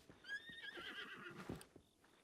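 A horse in the video game Zelda Breath of the Wild gives a clear, rising-then-falling whinny, followed by a few soft clip-clop hoofbeats, fairly close and moderately quiet, with no talk over it.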